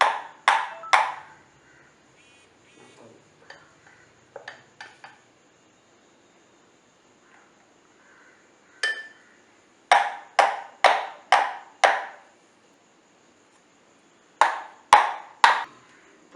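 Eggless cupcake batter cups tapped on a kitchen counter: crisp, ringing knocks in short clusters, a few quick raps, a pause with faint clinks, then rapid runs of taps, all close and with no voices.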